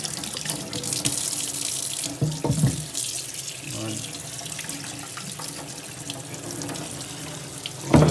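Tap water runs steadily over a K&N air filter from a Citroen DS3 1.6 VTi, a continuous close hiss and splash with brief louder bursts where the flow hits the filter.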